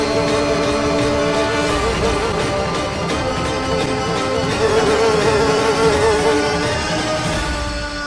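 A fly buzzing in a Hindi TV drama, loud and close, a continuous droning whine that wavers in pitch as it moves, with no voices over it.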